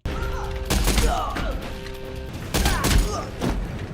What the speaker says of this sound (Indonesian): Dan kemudian, tembak-menembak pun terjadi.